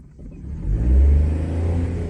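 A car engine revving during a driving lesson: a low, close engine note that swells sharply into a strong rev, then settles to a steady throbbing idle.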